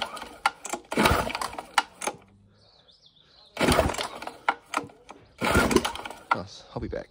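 Small 3.75 hp petrol engine on a homemade water blaster being pull-started, chugging and sputtering in loud repeated bursts separated by short lulls, up close.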